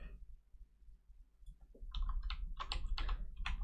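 Someone types in a rapid, irregular burst on a computer keyboard. The keys clatter close to the microphone after a quieter opening with a few faint taps.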